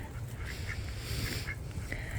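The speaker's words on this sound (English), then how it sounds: "So we actually hatched 2 of the 8 ducks that we have." Homestead ducks quacking in short, repeated calls at a moderate distance over a steady background hum, several quacks spaced irregularly across the moment.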